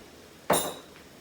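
A metal spoon gives a single sharp clink against a cup while stirring a tablespoon of flour into water, a short bright ring that fades within half a second in an otherwise quiet kitchen.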